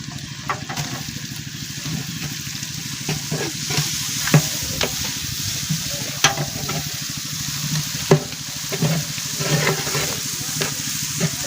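Garlic and spices fry in a pan over a cooking fire, crackling and sizzling steadily while a spoon scrapes and stirs with irregular clinks, close and continuous.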